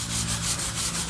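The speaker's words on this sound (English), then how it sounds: "So now I'm using salt to rub off any of the little pieces of food that are left." Coarse salt scrubbed across a homemade skottle pan to grind off leftover bits of food, a steady, gritty rasping with rhythmic back-and-forth swells, close up and without speech.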